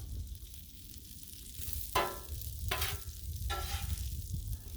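Gnocchi frying in butter on a Blackstone griddle, a steady low sizzle with three sharp scraping stirs of a spatula spaced about a second apart, close and alone.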